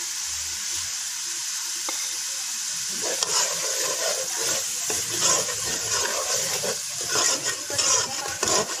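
Chopped tomatoes go into a pan of light-brown fried onions for a Punjabi arbi salan, setting off a steady loud sizzle with crackling bursts and stirring scrapes, no voices.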